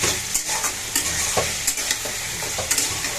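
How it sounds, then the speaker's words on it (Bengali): Raw onion fries in hot oil with a continuous loud sizzle, broken by the repeated scrape of a stirring utensil against the pan, close up and without talk. "এখন আমি কাঁচা পেঁয়াজ কিছু তেলের পর দিয়ে নেই।"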